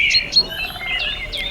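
Short, high chirping bird calls repeat several times in quick succession, clear and fairly close, with no voices over them.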